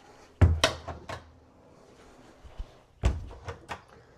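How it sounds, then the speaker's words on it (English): Push-to-open drawers on an epoxy entertainment center being pushed shut, giving two sharp wooden knocks about 2.5 seconds apart, each with small rattles and taps after it, close and with no talk. "And then I'll show you here how the drawers operate."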